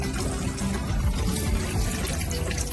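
Drinking water pours into containers to be carried home: a continuous close gush and splash that keeps a steady level throughout with no pauses.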